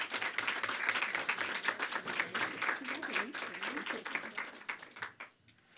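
An audience applauds to welcome Kristan Hawkins at a book talk event, steady dense clapping from a sizable crowd that swells and then tapers off near the end.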